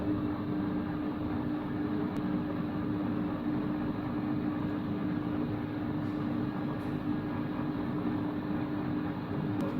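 Compact Cook Elite kitchen robot running steadily with a constant motor whir and hum while gelatin goes in, close and unbroken for the whole stretch, no speech.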